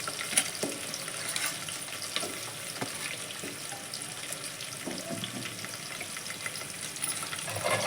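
Onions frying in a pan for chicken curry, a steady close sizzle with soft crackling and occasional stirring clicks, continuous for the whole stretch with no talk.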